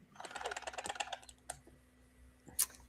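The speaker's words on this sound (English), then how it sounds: "I just forgot to grab the closing card and I was opening that box. That's what you heard." A small cardboard box of playing cards is opened by hand, giving a quick run of soft, close clicks and papery taps, then a lone louder snap near the end in a quiet room.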